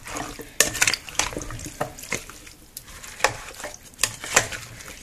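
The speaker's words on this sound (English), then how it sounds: "So now that we have all of our ingredients put into our pot, we are going to go ahead and give it a nice mix." Stew ingredients being mixed in a slow-cooker pot, a series of irregular clattering scrapes and wet squelching knocks up close, with quieter gaps between the strokes.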